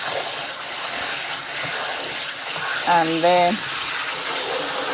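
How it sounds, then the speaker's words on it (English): Rinse water runs steadily out of a bowl of freshly cut, rinsed vegetables as it is tipped to drain, a continuous splashing gush heard close up while a person speaks briefly over it. "you let the water come out like that. You drain it like that."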